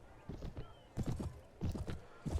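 Horse hooves clop on the ground in a video game, Viking Conquest Reforged, in quick bursts of steady, fairly faint hoofbeats over about two seconds.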